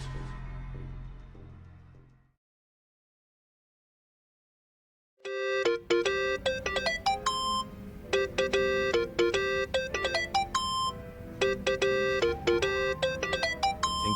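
A phone ringtone plays a bright, repeating electronic melody of quick plucked notes, ringing on for several seconds after a rumbling passage and a pause of silence.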